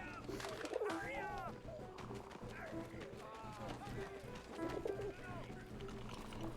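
Pigeon cooing in the World War I game 11-11 Memories Retold, soft warbling coos recurring over a steady low hum and other quiet game ambience.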